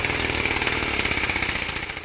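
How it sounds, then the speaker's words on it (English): Gas-powered leaf blower engine running steadily at high revs, a loud, continuous buzzing drone with a slight pulsing flutter, close by and alone without voices. "Gas-powered leaf blowers can cause issues of air pollution, noise, and dust."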